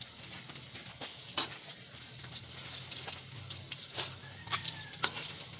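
Banana cue frying in a pan, a soft steady sizzle with scattered sharper pops and crackles at moderate distance, no talk.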